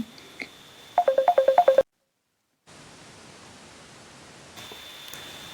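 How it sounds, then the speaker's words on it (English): A mobile phone rings with an incoming call, a quick run of about seven close, bright electronic tone pulses that stops abruptly before a stretch of near silence. "that's my mum calling me on the phone"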